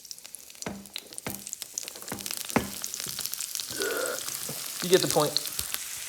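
Onions sauté in a hot pan, a steady close sizzle and bubbling with intermittent stirring clicks, while a person speaks briefly over it.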